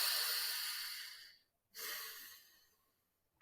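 Two long, deep breaths drawn in through the nose with a short pause between them, broad and airy, close and fairly loud, followed by quiet and a faint final sniff.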